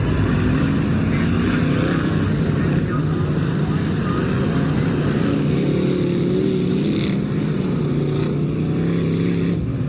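Race cars with GM engines roar together around a dirt track under evening racing, their engines a continuous loud drone with rising and falling pitch as the pack circles, and a commentator talks over them.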